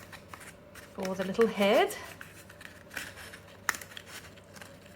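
Scissors snip through paper while a paper mache hippo sculpture is being shaped, a short burst of close crisp cutting with a few rustles, with a person talking quietly over it.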